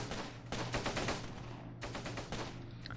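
Bursts of rapid gunfire crackle in the Close Combat wartime strategy game, near and fairly loud, with repeated volleys and a steady low rumble beneath throughout.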